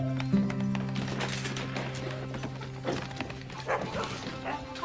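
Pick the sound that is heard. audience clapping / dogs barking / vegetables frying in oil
dogs barking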